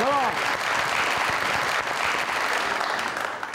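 An audience claps steadily for a contestant at a televised catwalk competition, a dense, continuous round of applause that tapers slightly toward the end, with a brief voice over it at the start.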